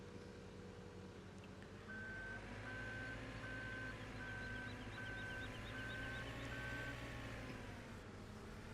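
A JCB machine on a farm reverses with a run of regular electronic beeps, evenly spaced over a steady low engine drone, with no talking.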